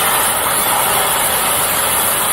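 A manual oxy-acetylene cutting torch cuts through metal with a loud, steady hissing roar that holds constant throughout, with no voices.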